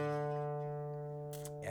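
An in-tune guitar D string sounds alone, a sustained harmonic note ringing steadily, with a brief rustling noise near the end.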